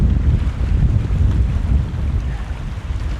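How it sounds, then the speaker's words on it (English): A strong easterly wind buffets the microphone on a sea-fishing boat off the UK, a loud continuous low rumble that gusts unevenly throughout, with no voices. "we are literally getting battered by this easterly wind now"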